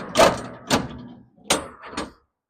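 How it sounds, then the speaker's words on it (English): Heavy steel doors of a shipping container being pushed shut by hand, four separate metallic bangs and clunks close by, each ringing briefly before dying away into silence. "this is how you close the doors"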